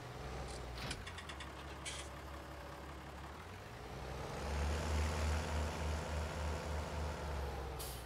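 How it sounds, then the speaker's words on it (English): Tractor with a bigger engine and side exhaust running in the Farming Simulator 19 video game, giving a steady low diesel drone that swells louder midway and throbs rhythmically, with a few short clicks early on and no talk. "This has got the bigger engine with the exhaust out the side."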